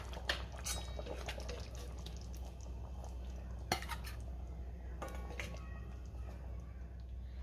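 Metal spoon clinks and scrapes against a pot and bowl while aubergine potato curry is ladled out, a few sharp clatters amid soft wet stirring and scooping, fairly close and without talk.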